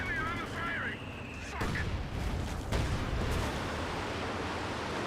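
Panzerwerfer rocket artillery barrage in Company of Heroes 2: a few wavering whistles, then sharp impacts near 1.6 and 2.7 seconds, each giving way to a sustained roar of gunfire and explosions that stays dense and loud to the end.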